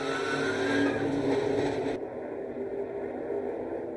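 Race cars roaring on the Daytona 500 track after a crash, a car sliding across the surface; loud, dense engine noise with tire scrub fills the first half, then drops to a steadier lower rumble.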